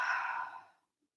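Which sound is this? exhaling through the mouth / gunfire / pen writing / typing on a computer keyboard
exhaling through the mouth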